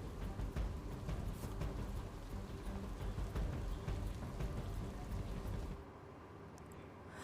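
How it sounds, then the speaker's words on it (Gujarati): Heavy monsoon rain pours steadily over flooded roads in Maliya Hatina, Junagadh, Gujarat, a dense continuous roar with no voices, easing to a quieter hiss near the end. "જૂનાગઢના માળિયાહાટીનામાં ધોધમાર વરસાદ વરસ્યો।"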